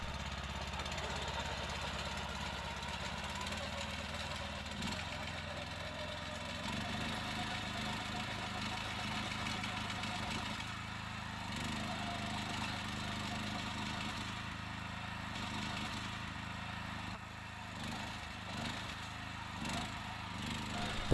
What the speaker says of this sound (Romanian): folosind motocultorul Campo 1854 cu 3 viteze înainte și remorca simplă, încărcată cu aproximativ 470 de kg